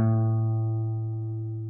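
A single guitar note plucked at the fifth fret of the low E string, on a guitar used for B, B minor and minor pentatonic practice. It rings out alone, clear and steady, then fades slowly over under two seconds.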